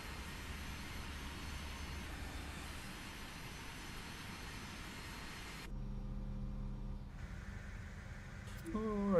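A CRJ-900 jet engine in Microsoft Flight Simulator 2024 keeps running after fuel cutoff, a steady broadband whine and roar that suddenly drops to a quieter tonal hum, then a rising whine at the end.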